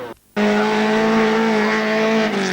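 A Volkswagen rally car at the 1993 Turva Rallisprint roars past under load, a loud sustained engine note with steady harmonic tones that bend slightly near the end, following a brief dip in level.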